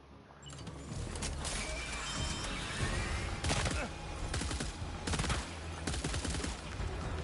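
Rapid bursts of gunfire in Death Stranding 2, sharp repeated shots in clusters over a busy game soundscape, with a voice speaking at times.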